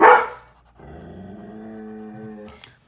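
The dog Paisley lets out one sharp, loud bark, then a drawn-out, moaning whine or howl that holds steady for nearly two seconds before a brief final yelp. No one speaks.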